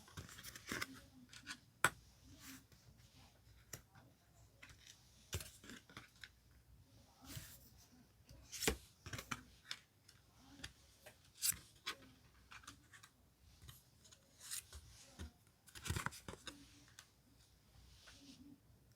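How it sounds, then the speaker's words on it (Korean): Tarot cards are shuffled and handled while five are chosen, making close, frequent crisp snaps and soft rubbing sounds over a low background hum. "다음으로 조언과 조심할 점 카드 5장을 선택해 볼게요."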